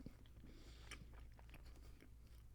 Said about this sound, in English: And I'm still chewing it.